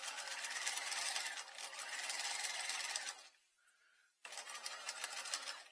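Sewing machine stitching a patch pocket, a fast continuous mechanical whir that runs for about three seconds, stops briefly, then starts again at close range.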